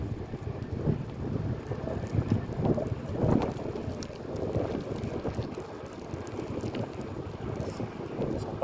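Gusty wind buffets the microphone while bicycling along Fort Myers Beach, Florida, producing a continuous low roaring rumble with fluctuating surges and no talking.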